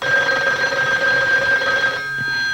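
A telephone rings on and on with a steady electronic tone, long distance from a pay phone going unanswered; the ring continues close and clear for the whole stretch, with no voice picking up.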